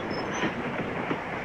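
A train runs steadily along the rails, heard from inside a passenger carriage as a continuous dense rumble and rattle with faint rhythmic clacks, filling the space with no one speaking.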